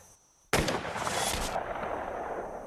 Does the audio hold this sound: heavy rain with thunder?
no